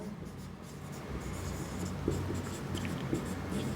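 Writing examples on a board during a lecture, a soft continuous scratching and scribbling of strokes, steady and fairly faint beneath a low room noise.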